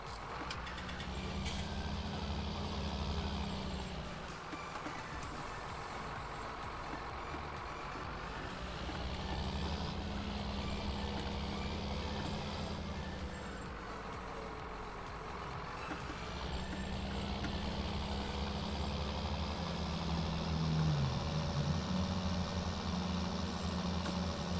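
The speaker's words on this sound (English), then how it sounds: "Great sounding tractors." Tractor engines in Farming Simulator 19 drone nearby at a steady level, the pitch rising and falling in slow waves as they rev and settle, with a brief high tone late on.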